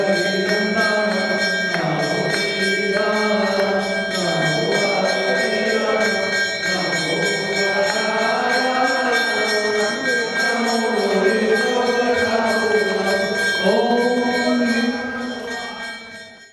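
Metal temple bells and ghanta gongs ring steadily through a Mahavir Janma Kalyanak celebration at a Jain temple in Ahmedabad, a dense shimmering wash of sustained tones with chanting voices mixed in, fading out at the end.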